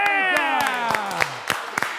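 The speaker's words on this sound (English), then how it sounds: "give me 2 claps and Ric Flair in 3, 2, 1" Workout class participants clap sharply several times while a long, sliding 'woo' shout trails downward beneath the claps; the voices and hands sound close and lively.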